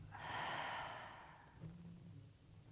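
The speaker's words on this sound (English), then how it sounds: "Audible exhale." A single audible exhale during yoga breathing, a soft breathy sigh through the mouth lasting about a second, close and quiet, followed by faint room stillness.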